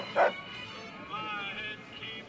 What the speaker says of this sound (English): He just wants peace and to hang out with his cool robot dog Rex